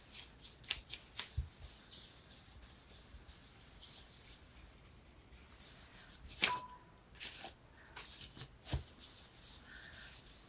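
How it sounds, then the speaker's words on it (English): An ink brush is wiped repeatedly across the back of a sheet of wallpaper, giving soft, dry, close-up scratching and rubbing strokes in irregular bursts over a quiet background. "to clean off my brush, I usually use a piece of paper and just keep going"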